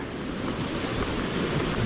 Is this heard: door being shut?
no